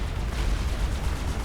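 Side-mounted sponson guns on the Fat Boy experimental unit in Supreme Commander Forged Alliance, firing in a dense continuous rumbling barrage of booms and blasts.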